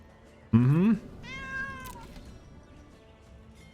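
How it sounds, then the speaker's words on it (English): A pet cat meows once, close and loud with a rising then falling pitch, followed by a fainter drawn-out second meow over quiet room background, with a brief sound at the very end. "My cat doesn't like that."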